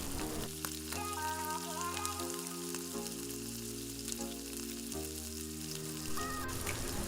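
Dry coconut, almonds, cashews and raisins roast in hot oil for poha chivda, giving a steady soft sizzle that runs under fairly loud background music.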